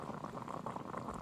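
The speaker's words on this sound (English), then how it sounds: "I'll boil some water." Water boils in a video game, a dense, steady bubbling that stays even and fairly close across the short moment, with no speech over it.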